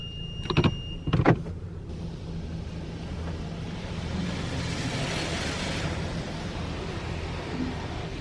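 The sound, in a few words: automatic car wash running with soap and water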